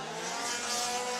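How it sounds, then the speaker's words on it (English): A Formula Drift car's engine roars at full throttle through a final clipping zone during Japan qualifying, a loud sustained high-pitched scream heard briefly at a distance. "Standing on the throttle in that final clipping zone"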